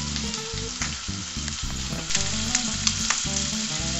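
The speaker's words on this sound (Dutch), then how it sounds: "Gebakken aardappeltjes. Dat is net in de pan gedaan." Small potatoes frying in a pan, a dense steady sizzle with occasional stirring and scraping, close and loud with no talking.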